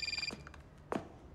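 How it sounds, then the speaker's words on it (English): A phone rings in a Saints Row reboot cutscene, a short electronic ring burst at the start followed by quiet room tone and a couple of faint soft sounds. "Eli, mute your fucking phone."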